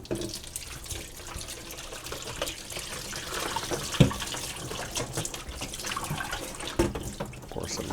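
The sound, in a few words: distilled water poured on the front of a part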